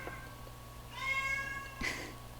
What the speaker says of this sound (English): My cat is meowing like crazy.